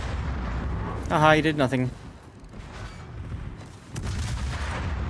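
Battleship guns fire in the World of Warships video game, a heavy booming salvo with ringing resonance followed by rumbling, distant blasts, while someone talks over the action.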